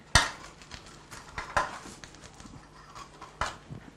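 Two forks clink and scrape sharply against a dish while loosening a beef en croute pastry, giving a few separate metallic hits with softer scraping between them, close up and with no talk.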